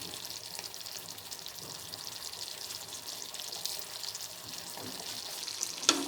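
Paneer slices drop into thick, bubbling manchurian sauce in a pan, giving a steady soft sizzle with faint stirring scrapes and a brief louder clatter near the end.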